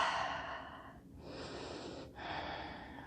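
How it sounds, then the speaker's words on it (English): Slow breathing during a yoga session, steady close breaths through the nose and mouth with two brief pauses between them and no talking. "And we breathe"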